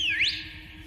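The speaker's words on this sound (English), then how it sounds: "Whistle all you'd like." A single sharp whistle blast, rising and sliding upward in pitch, blown to summon backup, heard alone and close for under half a second before fading.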